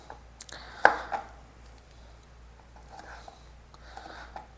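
A knife slices raw banana for Coorg-style banana chips: one sharp cut stands out, followed by a few faint, scattered taps against a quiet background.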